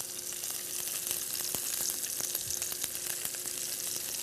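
Salmon fries in oil and butter in a cast iron skillet, making a constant bright sizzle with scattered pops and crackles, close and with no talk.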